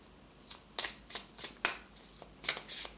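Tarot cards being shuffled by hand, with some slipping out and falling: a quiet, close series of soft riffling flutters and slaps in uneven bursts over a faint background.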